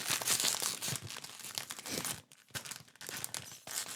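Crinkly plastic packet of salted popcorn snack torn open by hand, giving loud, close crackling and crumpling bursts with brief pauses between them.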